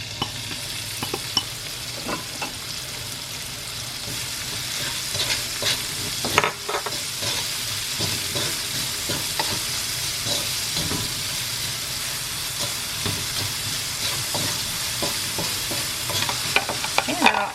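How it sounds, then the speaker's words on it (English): Jalapenos and green onions frying with salt and pepper in a pan, a steady loud sizzle and hiss running throughout with occasional clicks and scrapes of stirring, no voices. "Now I'm going to fry the jalapenos and the green onions, and I'm also going to add in the salt and pepper"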